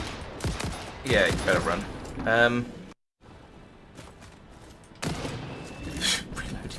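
Gunfire in the video game Satisfactory as a critter is shot: rapid loud bursts of shots, then a short silence and more firing, with someone talking over parts of it.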